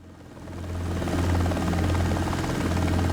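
Helicopter flying in the X-Plane 12 flight simulator game, a steady rotor thrum and engine drone that swells in the first second, then holds loud and even, with no talking.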